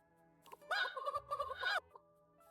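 A chicken character in the video game Date Everything clucks and squawks in a run of bursty, throaty fowl calls lasting about a second, fairly close and alone, with a low game tone beneath.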